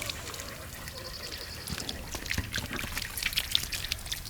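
Liquid feed trickles from a watering can onto garden soil in a soft, fine pour, faint and steady with small splashes throughout, with a few scattered outdoor noises.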